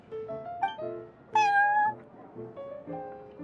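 A cat meows several times inside the video game Genshin Impact, the clear, tonal calls standing alone with a louder, rising meow near the middle.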